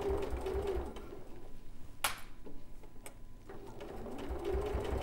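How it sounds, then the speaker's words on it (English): A sewing machine runs steadily in a quick ticking rhythm while stitching a tote bag a couple of millimetres from the edge. It pauses briefly with a sharp click in the middle, then picks up again. "I'm stitching a couple of millimetres from the edge"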